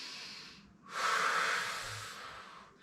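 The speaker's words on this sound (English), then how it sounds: "Inhale." A single deep inhale through the nose during a bodyweight core workout, close and breathy, swelling after a brief pause and tapering off over about two seconds with no talk.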